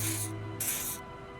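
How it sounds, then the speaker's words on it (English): Two short hissing bursts of an odd-smelling pheromone spray applied to armpits in the video game Disco Elysium, close and clear over a low ambient hum. "He does you with the odd smelling spray, a double helping as you present your other armpit"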